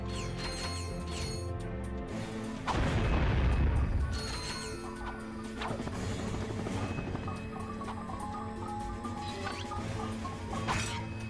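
Seeker weapon from Ratchet & Clank 2 firing in a game, a loud booming blast burst around the third second over steady game music and effects, followed by further softer pops.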